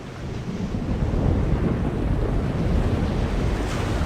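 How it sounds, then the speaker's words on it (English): A chaos storm at sea in The Longest Journey video game: a loud, steady roar of wind and crashing waves with deep rumbling underneath, swelling slightly and never letting up. "it's a chaos storm."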